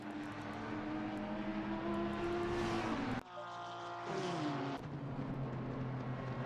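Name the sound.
racing cars driving on the Spa circuit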